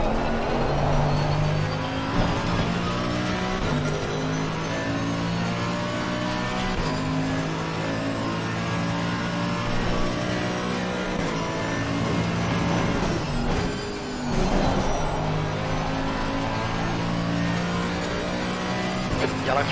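A Mercedes AMG GT3 race car in Assetto Corsa at Brands Hatch drones loudly and continuously, its engine pitch rising and falling through gear changes, with one brief dip near the middle.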